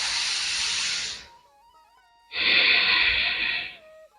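Two long, forceful breaths blown out hard as part of a breathing exercise, each a strong airy hiss lasting about a second with a short quiet gap between them, close and fairly loud.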